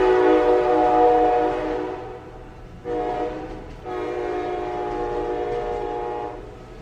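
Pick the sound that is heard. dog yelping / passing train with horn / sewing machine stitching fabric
passing train with horn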